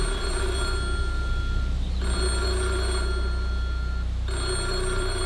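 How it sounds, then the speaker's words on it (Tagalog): An old analog telephone rings loudly and close by, sounding in repeated bursts of ringing with short gaps between them. A steady hum sits underneath. "Pero tuwing makakarinig ako ng analog na phone,"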